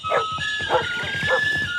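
Dogs barking and yipping in the Isle of Dogs trailer, three short bursts spaced evenly over a steady tonal music bed, near and moderately loud.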